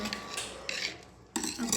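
Pizza cutter slicing through a noodle and egg cutlet, giving short scraping and clinking bursts against a plate at close range, with brief pauses between strokes.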